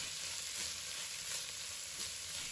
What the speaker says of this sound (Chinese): 将白菜丝炒至断生，炒干水分